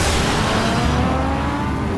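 A Ferrari in the video game Batman: The Enemy Within pulls away with a steady, loud engine roar that fades slightly as it drives off, with no talking.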